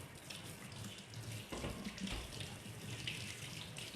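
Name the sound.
water running from a tap while washing hands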